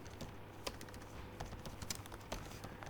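Soft, rapid keystrokes on a computer keyboard while C code is being written, an irregular run of light clicks with a few sharper taps, close and quiet, no talking.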